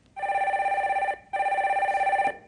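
A telephone rings twice for a caller phoning in to a live stock-market broadcast, each ring a loud, close, warbling electronic trill of about a second with a short gap between.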